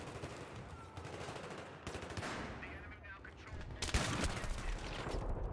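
Gunfire from a newly acquired shotgun in a Halo-style shooter, heavy blasts and bursts of shots repeating across the clip, loud and dense amid game noise, with a voice faintly mixed in.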